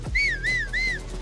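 A single melodic whistle calling a horse in the video game Zelda: Tears of the Kingdom rises and falls in three quick swoops, clear and close, with no talking.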